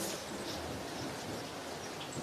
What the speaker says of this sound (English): There's lightning and thunder all round.